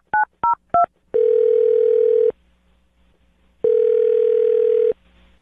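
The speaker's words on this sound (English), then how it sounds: "I'm going to dial her phone number right now" Three short telephone keypad tones beep in quick succession, followed by two long, loud ringback tones separated by a pause.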